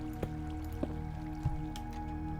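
Water runs constantly in a Minecraft channel, heard as a steady flowing wash broken by a few soft, evenly spaced drips and squishy plops over a low background drone.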